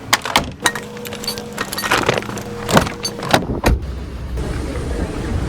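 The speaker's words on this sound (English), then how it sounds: "Just got back in the car." Someone gets back into a car: door clunks, rustling and jangling keys, then a steady low cabin hum near the end, with no talking.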